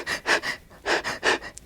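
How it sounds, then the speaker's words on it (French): Rapid, shallow, jerky breaths showing stressed breathing: five or six short airy puffs in quick uneven succession, close to the microphone, with no speech. "très haut et très saccadé, très court aussi, la respiration du stress chronique"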